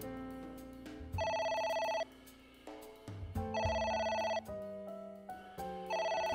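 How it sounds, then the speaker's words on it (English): Telephone in a video game ringing in repeated electronic bursts, loud tonal rings alternating with short pauses and game background sound, no talk. "It won't stop ringing."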